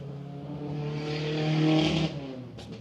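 A car engine revving loudly in traffic, a sustained droning rumble that climbs to a peak, then drops off abruptly, heard close and alone.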